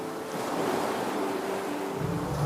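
Ocean waves break steadily on the shore in a broad, continuous wash of surf, loud and close with no voices.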